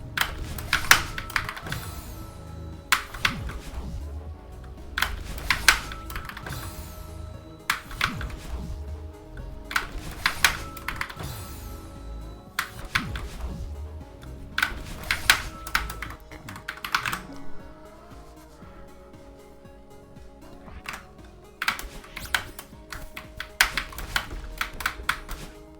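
Bursts of fast, clattering computer keyboard typing, close and fairly loud, coming in clumps separated by short gaps over a steady low hum, with no voice.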